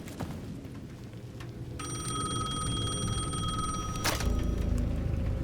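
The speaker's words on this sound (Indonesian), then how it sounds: "The payphone at the edge of the plaza was ringing again." A payphone at the edge of a plaza in Alan Wake 2 rings with a steady electronic bell tone over a low ambient rumble, then cuts off after a sharp click.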